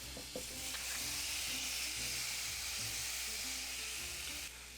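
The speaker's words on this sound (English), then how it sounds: "Let's go ahead and put our patty on here." A Beyond Burger plant-based patty laid into a hot pan, giving a steady crackling sizzle over low kitchen rumble and a few small clinks, fairly faint and unbroken until it drops off near the end.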